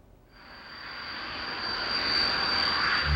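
Steady, close engine drone inside a relief cargo plane in flight over flood-hit southern Africa, a craft that carries 7 tons of food. The roar builds slightly and holds constant, with no voices over it.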